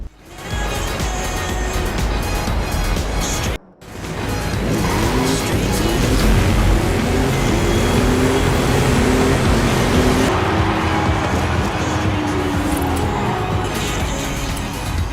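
A 1957 Nash Custom drives in Forza Horizon 5, its loud, steady engine roar building and shifting as it races along, with a brief cutout near the start and faint tire noise mixed in.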